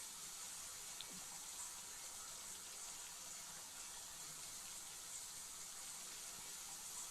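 Running faucet water in The Sims 4, a steady broadband hiss of flowing water, constant and fairly faint with no talk over it.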